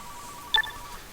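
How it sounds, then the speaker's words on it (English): A phone in the garage of the video game Car Mechanic Simulator 2015 gives a single short electronic ring tone, faint and clean over a quiet background hum. "Do you hear the phone ringing?"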